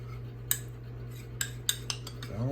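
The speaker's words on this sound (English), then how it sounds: "Keep stirring until the lumps are gone" A metal spoon stirs gravy in a pan for roasted turkey wings, giving a few sharp clinks and taps against the pan over a steady low hum.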